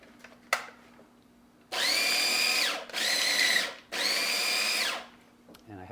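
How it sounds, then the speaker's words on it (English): An electric grinder whirring through dried pepperoncini for a sauce: three loud, close bursts of high-pitched motor whine, each about a second long, separated by short gaps, after a light tap. "So I'm going to grind this up first."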